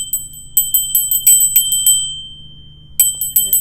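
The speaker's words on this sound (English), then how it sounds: "I got my little bell." A small hand bell rung to cleanse a space jingles in repeated rapid shakes, close and loud, then pauses briefly before another short burst of ringing.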